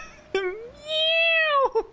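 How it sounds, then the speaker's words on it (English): A cat meows in the Genshin Impact video game: a short chirp, then a long, rising and falling meow that drops off at the end, clear and close with no talking over it. "Just suddenly cat."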